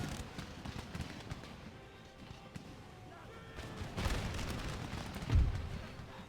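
Scattered musket volley fire from an Empire: Total War battle under the Darthmod mod, crackling bursts of gunshots at middle distance that swell into a louder rolling volley near the end, with faint voices in the background.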